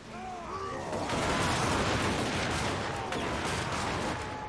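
Volleys of gunfire from ranked units in the strategy game Total War: Warhammer 2, a dense, continuous crackle of many shots overlapping loudly for several seconds with no voices.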